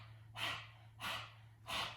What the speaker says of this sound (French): On tire la langue et on vient faire la respiration du lion.